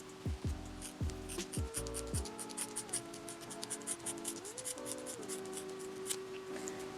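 Scissors snip through a human hair lock extension, giving a handful of quick crisp cuts early on, followed by soft rubbing and handling noises at low volume.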